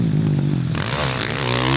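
A Husqvarna 450 motocross bike rides on a dirt track, its engine note droning loud and close, then shifting in pitch as it revs.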